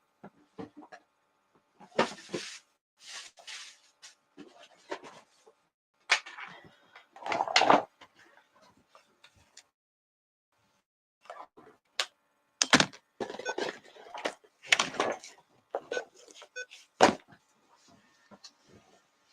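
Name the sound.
heavy wooden drawer being carried and set down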